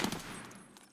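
Gunfire in Escape from Tarkov: a brief, fairly faint burst of rapid shots that fades out within a second.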